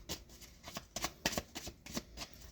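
A deck of oracle advice cards is shuffled by hand at close range. Quick riffling bursts come in an irregular rhythm, quiet and with no one talking.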